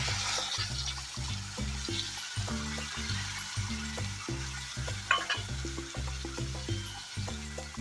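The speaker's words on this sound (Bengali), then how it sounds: "হলুদ গুঁড়ো দিয়ে দিলাম, মশলাটা ভেজে নেব।" Spices and turmeric powder frying in a pan for a rajma fish curry, a dense close sizzle broken by rhythmic stirring scrapes and taps, steady and moderately loud with no talking.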